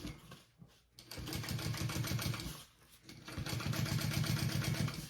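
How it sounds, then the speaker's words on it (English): A sewing machine top stitches a seam along the base bottom piece of a fabric bag, running in two steady whirring bursts with a short pause between, close and clear with no talk. "top stitch it along that base bottom piece"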